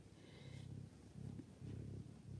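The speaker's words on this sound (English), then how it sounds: "he purrs" A pet cat nicknamed Mr. Purr purrs softly and steadily in a quiet room, the low rumble pulsing in a few rhythmic bursts, close and faint, with no one talking.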